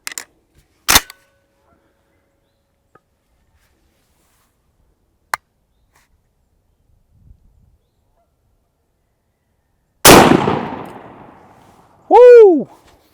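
A 12 gauge shotgun fires a Federal TSS turkey load outdoors at a target, one loud sharp blast with a trailing boom, set among a few faint distant pops, and a voice whoops right after.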